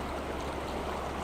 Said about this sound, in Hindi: पानी की आवाज़ को, इस साउंड को, इस संगीत को अपने रोम रोम में रच बस जाने दीजिए